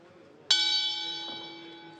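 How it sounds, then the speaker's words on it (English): A single bell strike opens a chessboxing round at a world championship bout, ringing out sharply with bright sustained overtones that slowly decay; no voices over it. "There's the bell"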